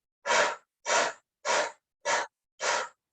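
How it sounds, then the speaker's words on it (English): Five short, sharp breaths out during a gentle stretch mat class, evenly spaced, close and clear, with silence between them. "breathe out."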